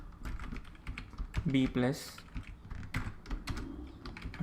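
Python code being typed on a computer keyboard: a steady run of quick, close key clicks that continues under a man's speech.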